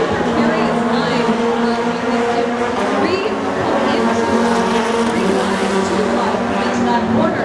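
Rallycross race cars slide through a tight corner at a Seattle Global RallyCross event, their engines roaring steadily with loud, continuous crowd and track noise, while a commentator talks over the action.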